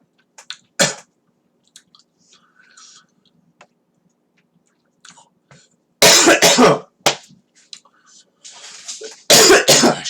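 A man coughs and clears his throat after choking on Skittles. Soft chewing and small sounds come first, then two loud harsh bursts of coughing near the end.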